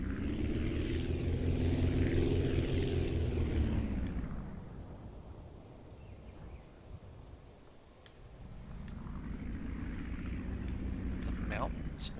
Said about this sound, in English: We're just going to turn the plane around so it's going to be a little bit easier to take off.